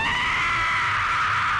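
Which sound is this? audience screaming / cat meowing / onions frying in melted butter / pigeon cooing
audience screaming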